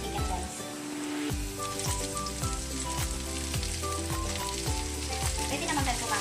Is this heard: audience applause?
no